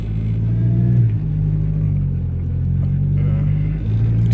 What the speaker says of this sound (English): this big U.S. Foods truck in front of me